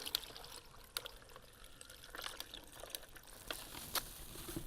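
100% apple juice pouring into a container for a pineapple ginger punch, a steady close liquid stream with small splashy trickles and faint clinks throughout.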